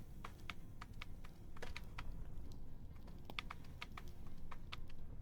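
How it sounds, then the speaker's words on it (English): Rapid, light clicking keystrokes on a keyboard pour out in an irregular stream for several seconds, quiet and close, with no talking. "Just typing this on the virtual keyboard."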